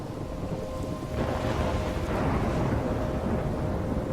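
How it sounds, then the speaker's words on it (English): Thunderstorm in the video game Life Is Strange: Chrysalis, a steady wash of rain and wind with low, rumbling swells of thunder building through the middle and holding to the end. "I'm trapped in a storm?"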